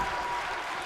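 Arena crowd cheering and applauding for Asuka during a WWE 2K Universe Mode wrestling match, a steady dense roar of voices held throughout with no break.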